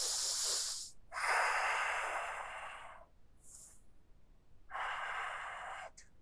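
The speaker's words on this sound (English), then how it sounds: "Deep breathing here." Deep yoga breathing, slow and close: long airy inhales and exhales in a steady rhythm, three or four full breaths with soft hissy texture and quiet pauses between them.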